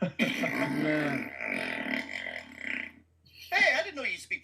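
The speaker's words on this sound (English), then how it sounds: "That's a fart." A man blows a drawn-out wet fart noise with his mouth, a buzzing, burp-like rasp lasting over two seconds, then a brief second burst after a pause, close and loud.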